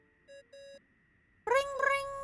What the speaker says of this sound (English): Oh, phone's ringing.